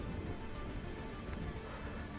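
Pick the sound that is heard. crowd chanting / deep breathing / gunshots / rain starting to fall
rain starting to fall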